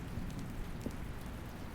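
Steady rain falls in a rainy world in the video game The Stanley Parable, a dense, continuous hiss of drops with faint low rumbles underneath.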